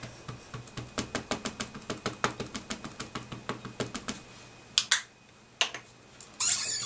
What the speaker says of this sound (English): And then again I'm going to ink up this stamp.